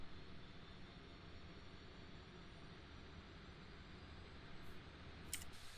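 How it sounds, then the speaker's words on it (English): Simulated C-130J turboprop engine spinning up in the DCS game, a faint continuous whooshing whine with steady broadband noise and a few brief high clicks near the end, no talking. "So we're going to let the engine spin up."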